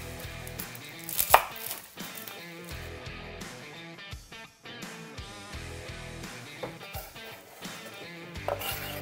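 A knife chops shallot on a board in quick, uneven bursts of sharp taps with short pauses, close by and clear, with no talking.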